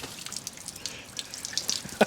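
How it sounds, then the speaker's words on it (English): Water splashing and dripping from a portable 35-litre eye wash station, a close, uneven trickle with small spattering drops and a sharper splash near the end, no talk over it. "a portable eye wash station at work"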